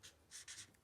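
Marker or chalk writing on a board, a few short scratchy strokes in quick succession, close and fairly soft with no talking.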